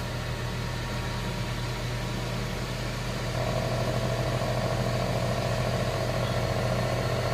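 A Ninja Foodi grill preheats with a steady, close whirring drone over a low hum, stepping up louder about halfway through and holding there.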